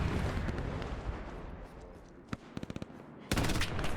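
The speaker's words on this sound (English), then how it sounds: "Oh, just got shot at." Gunfire from the World War II video game Hell Let Loose, set at Sainte-Mère-Église, with a quick burst of separate shots cracking in near the listener and then a louder, sustained volley over a constant battlefield rumble.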